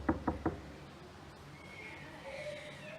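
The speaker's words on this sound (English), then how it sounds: "Let me knock on her door and see if she can hop on." Three quick, firm knocks sound on a school office door, close and evenly spaced, followed by a quiet room hum.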